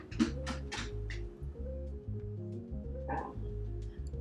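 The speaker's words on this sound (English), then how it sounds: "my dog in the background hasn't been fed her dinner, so she's having a bit of a whinge" A pet dog whining in the background for her dinner, a few short high yelps and whimpers, fairly faint and distant, over a steady low hum.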